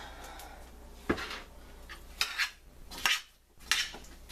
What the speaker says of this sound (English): I'm going to take a spoon and try and mix that up in there